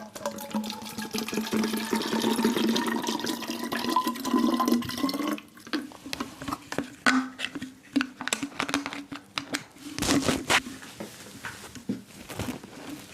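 Water poured from one bottle into another, a gurgling, splashing stream for several seconds that breaks into uneven trickles and drips, close by and fairly quiet.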